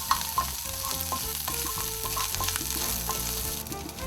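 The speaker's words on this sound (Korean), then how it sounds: "이제 기름을 두르고 준비한 재료를 함께 넣고 볶는데요" Sweet potato, walnuts, potato and onion stir-fried together in olive oil for a curry, a steady close sizzle with soft scraping and stirring throughout, no talk.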